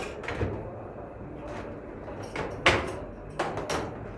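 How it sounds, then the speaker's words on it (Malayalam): The door of an election EVM ballot unit is pressed and pulled down to open, giving a few close plastic clicks and a sliding clack against a faint room background. "ഡോറ് തുറക്കുന്ന വിധം ഒന്ന് പ്രസ് ചെയ്ത് താഴേക്ക് പിടിച്ചു കഴിഞ്ഞാൽ ഇത് ഈസി ആയിട്ട് തുറന്നു വരും."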